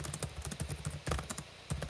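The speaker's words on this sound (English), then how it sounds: "Why are you typing so damn loud, brother?" Quick, uneven key clicks from a computer keyboard patter close by, rapid bursts of typing with short pauses, fairly faint overall.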